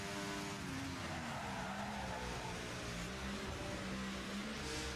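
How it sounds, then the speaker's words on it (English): An F1 car at Monza in the F1 24 video game mounts the kerb, giving a steady high engine whine with rough skidding tyre noise underneath, loud and continuous with no talking. "Mounting the curb"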